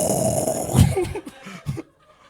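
A voice imitates loud, rumbling snoring, a couple of rough guttural snorts that trail off into quiet.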